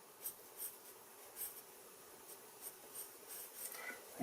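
Pencil strokes scratching across paper while freehand-sketching a rectangle for a kitchen bench top, a series of short, faint scratchy rubs at an irregular rhythm with no talk over them.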